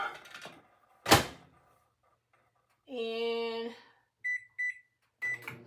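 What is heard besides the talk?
microwave oven door and start, melting butter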